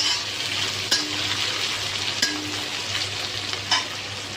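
Ingredients for chhole masala frying in a pan until golden brown, a steady loud sizzle running throughout, with a few sharp stirring scrapes and clinks standing out above it.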